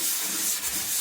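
A stiff brush scrubs back and forth over a glass fiber reinforced concrete surface during an acid wash, making a continuous, close, gritty rasp with no pauses.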